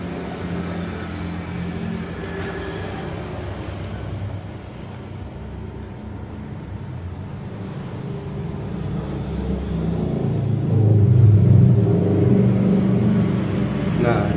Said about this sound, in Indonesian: Dengar dari suara RPM pas ditariknya sedikit